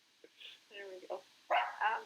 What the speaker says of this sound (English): Can you hear my dog?